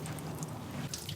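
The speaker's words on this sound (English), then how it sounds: "I'm gonna drain the coolant, and it's gonna be ugly." Rusty coolant, plain water, drains steadily from a Volvo 164 engine onto the street in a continuous close splashing trickle.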